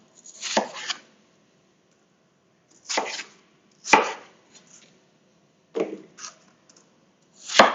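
Apples are chopped with a knife on a cutting board in a kitchen, giving about six separate crisp thuds with short crunching splits, spaced unevenly by pauses of a second or more, close and clear, with no talking.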